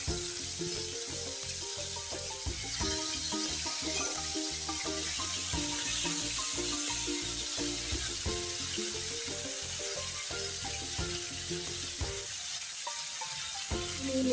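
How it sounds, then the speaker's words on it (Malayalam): Rohu fish frying in hot mustard oil, a continuous soft crackling sizzle with faint bubbling throughout, fairly quiet and alone without talk. "ഇനി നമുക്ക് മീൻ വറക്കാനായിട്ട് ഇട്ട് കൊടുക്കാം"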